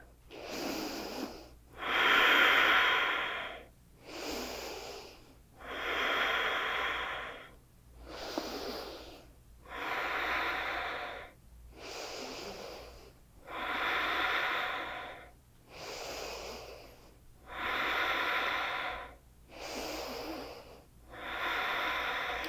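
Slow, deep breaths in a third-trimester prenatal yoga session, about ten long, evenly paced inhale-exhale cycles, close and audible with a soft wheezy rasp and no talking.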